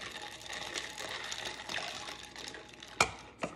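Hot tea pours over ice cubes in a continuous rushing, fizzing splash, with two sharp clinks of ice near the end, close and moderately loud.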